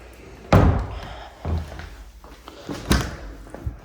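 A garage access door inside a house swings and shuts with a heavy close slam, followed by softer thumps and a second knock, loud and near.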